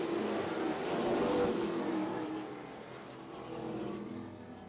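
Race cars roaring around Oyster Bed Speedway during the Chapman Bros 150, with engine noise swelling and easing as the field passes in a continuous, moderately distant drone.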